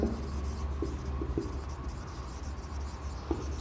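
Chalk or pen scratches out a worked circumference problem on a board or paper, with short, scraping strokes and occasional taps over a low, steady room hum.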